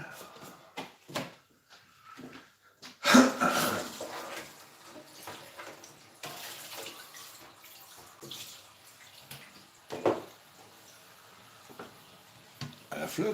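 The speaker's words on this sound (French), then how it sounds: "On va rincer les pommes de terre." Running water splashes over Bintje potatoes being rinsed in a kitchen sink, a steady gush with bursts of clatter and handling, mixed with intermittent speech nearby.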